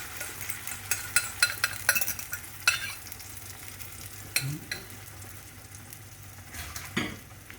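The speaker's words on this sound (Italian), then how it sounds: "andiamo a mescolare bene tutti gli ingredienti, altrimenti avremo la cipolla da una parte e la pancetta dall'altra." Egg, onion and pancetta fry in a pan under a steady sizzle while a utensil stirs them, scraping and clicking against the metal at an uneven rhythm.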